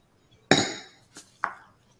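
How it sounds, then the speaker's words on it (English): A wine glass handled at a cake-decorating demonstration gives a sharp clink, then a fainter tap and a short ringing ping. The three brief, close contacts sound against a quiet background. "Okay, this is a wine glass."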